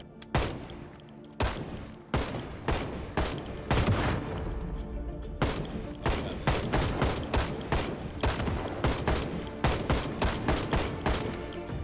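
Gunfire in the video game Project Zomboid comes as a long run of loud, sharp shots, some spaced apart and others in rapid bursts, each followed by a brief ring.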